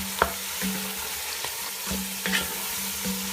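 Meat added to a hot pot of onions and spices fries with a steady, loud sizzle, broken by clanking stirring strokes at irregular intervals, and no talking.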